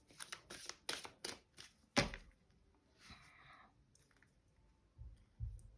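A deck of tarot cards is cut and handled, giving a quick run of crisp clicks and snaps followed by a brief riffle, a soft shuffle and a couple of low thumps, close and quiet.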